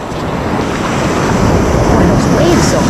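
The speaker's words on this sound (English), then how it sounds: "Boy, those waves so good. Lord. They're big down here." Big ocean waves break and wash continuously onto a beach at Lido and Caspersen, a loud, steady roar of surf with wind buffeting the microphone throughout.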